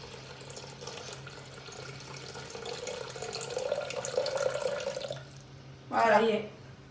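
Water pours steadily into the bowl of a Thermomix TM6 kitchen appliance for several seconds, swelling slightly before stopping, with a voice speaking briefly afterward.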